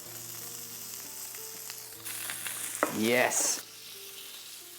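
Red mullet frying skin-side down on a well-preheated barbecue, a steady close sizzle with a brief louder crackling burst, and one short spoken word.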